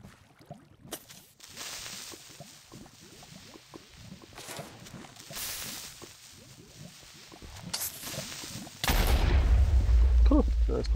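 An explosion in the video game Minecraft, a loud, sudden burst that ends the clip with a heavy rumbling roar, preceded by quieter game sounds and a few sharp thuds.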